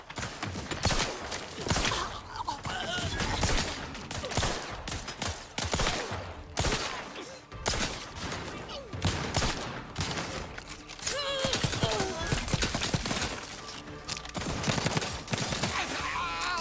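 Shock weapon firing in the Outer Worlds 2 video game, a dense run of loud crackling, sputtering bursts with brief gaps, accompanied by game music and effects throughout.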